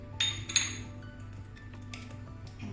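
Whisk or spoon clinking against a bowl while mixing egg pie filling of eggs, cornstarch and salt, with a few sharp metallic-glassy taps near the start, then softer steady stirring.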